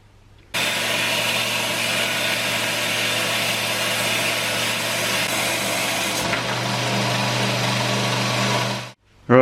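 A power tool, likely a grinder or cutter, cuts a motorcycle fork preload spacer down to 6mm in one steady, loud, continuous run, with a slight pitch change partway through before it stops abruptly.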